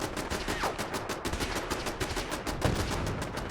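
Rapid automatic gunfire in the Fallout 4 video game, a dense continuous rattle of shots through the whole stretch, fairly quiet and with no talk.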